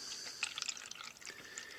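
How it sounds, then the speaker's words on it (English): Water poured into cups to fill them up to a marked line, a soft trickling and dripping stream with fluctuating splashes throughout, fairly quiet and close, with no talking. "let's fill the cups with water up to the black line so that both cups have the same level of water"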